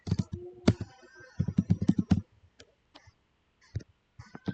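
Typing on a computer keyboard into a search field: quick bursts of crisp, close key clicks, then sparse single taps separated by silence.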